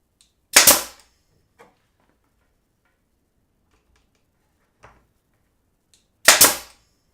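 A nail gun driving nails into a wooden beam for a floating shelf, two sharp loud pneumatic bangs several seconds apart with faint ticks in between, otherwise quiet.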